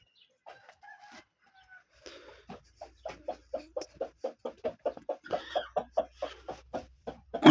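A hen clucking on a farm after laying an egg, a steady run of short, rhythmic clucks that grow louder and quicker toward the end, with softer calls at the start.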